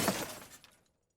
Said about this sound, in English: Another vehicle crashes into her.